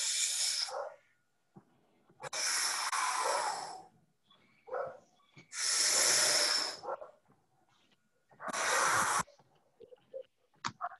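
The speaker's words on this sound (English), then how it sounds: "They did incredible volumes of training of deep breathing exercises" Forceful deep breathing exercise, alternating long and short breaths through the mouth, with four loud rushing hisses in a slow rhythm, close to the ear, and faint quieter breaths and clicks between them.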